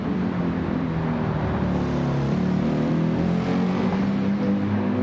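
An F1 race car in the Gran Turismo 7 video game drives down a straight at the Nurburgring, its engine a steady, loud, continuous drone that holds pitch throughout, with no talk over it.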